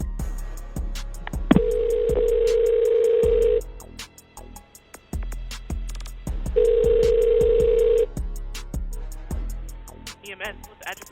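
Emergency call transferred to EMS: a dial tone, then two long steady ringback tones separated by a pause, with a clicking line and faint muffled voices underneath.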